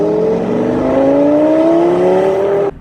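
Early Lamborghini Gallardo with the e-gear transmission accelerating hard on a joyride, a loud, steady engine note climbing in pitch across one long pull, then cutting off abruptly near the end.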